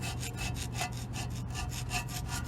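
A gasket scraper scrapes old gasket material off a cast iron intake manifold for a 400 small block in a 1986 GMC Sierra, making rapid, rhythmic rasping strokes, close and steady, with no talking.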